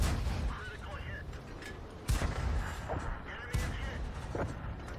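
Artillery shells burst in a tank video game, two sharp booming impacts standing out above a dense, rumbling battle din with scattered mechanical noise.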